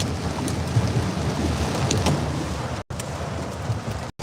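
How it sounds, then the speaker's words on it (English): Thunder rumbles low and continuously during a lightning storm at night in California, loud and close, mixed with steady rain noise and broken by two brief dropouts. "There's lightning, guys, and thunder."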